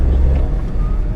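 A Maruti WagonR without ABS or airbags is being driven, its engine and road noise forming a low, steady rumble heard close from inside the cabin.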